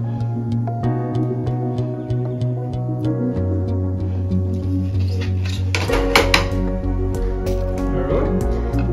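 Fried fish pieces dropped into a pot of Assamese-style fish curry, giving soft wet plops and clatters of utensils against the pot over a steady simmer, with a brief louder splash and scraping near the end.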